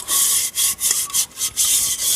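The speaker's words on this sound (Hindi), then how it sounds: "ये मिट्टी से बर्तन धोए जाते हैं। वारी रेत होती है, रेत उससे धोए जाते हैं।" Dishes being scrubbed with sand in a Sindhi village, a gritty rasping rub repeated in short strokes about every half second, close and fairly loud with no talking.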